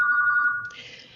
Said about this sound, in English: that's not my phone ringing, is it?